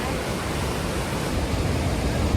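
Rushing stream water at Johnston Canyon in Banff National Park, Canada, a steady broadband roar that holds even and loud from start to finish with no break.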